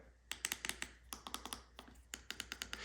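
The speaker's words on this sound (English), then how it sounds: "They all have a nice tactile click" Crisp tactile clicks from the buttons on an ASMAX F1 motorcycle intercom, pressed in quick irregular bursts of close, sharp taps with brief pauses between groups.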